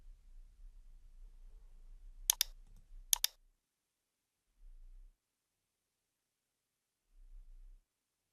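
Two quick pairs of sharp mouse clicks in Power BI desktop software, close and dry in an otherwise quiet room, followed by faint low hum.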